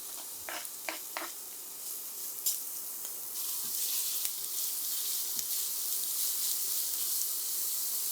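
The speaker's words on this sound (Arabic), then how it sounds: "وبمقلاية على النار حطيت شوية زيت، وعندي بصلة مفرومة بدي أقلبها لحتى تدبل معي" Chopped onion frying in oil in a pan gives a steady hiss that swells louder partway through, with a few light taps and stirring clicks early on, close and without voices.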